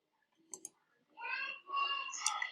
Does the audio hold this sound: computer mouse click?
yes